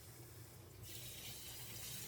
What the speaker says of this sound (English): Doing a quick rinse.